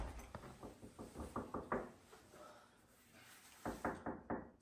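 Repeated knocking on a door in two bursts, a quick series of sharp raps, a pause, then a few more knocks, close and fairly loud.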